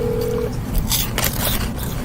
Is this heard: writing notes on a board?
no